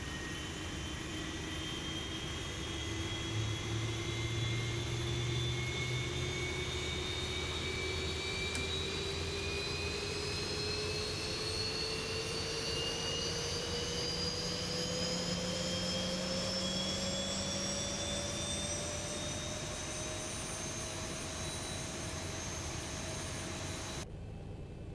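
Boeing 737-800 jet engine spooling up during start in X-Plane 11, a steady whooshing roar with a whine rising slowly in pitch, continuous and even throughout, no voices.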